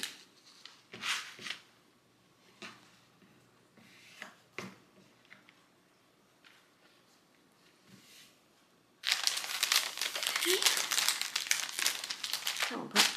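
Paper being folded and crinkled while assembling a gingerbread Christmas junk journal, with scattered soft rustles and handling noises, then a long, loud, dense stretch of close crinkling and crumpling near the end.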